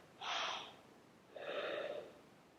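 Two slow, deep breaths during a yoga sequence, a long airy inhale followed by a softer, drawn-out exhale, close and quiet with no talking.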